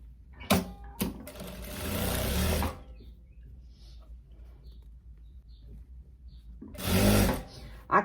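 A sewing machine stitches the side seam of a viscose dress with a back ruffle in short bursts: two quick taps, a steady run of about two seconds, then a quiet pause before another brief run near the end.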